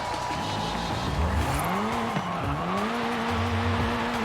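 Tires of a 1997 BMW M3 skid and squeal through a J-turn in Forza Horizon 5, a sustained, wavering screech rising and dipping over a steady engine drone, close and fairly loud with no talk.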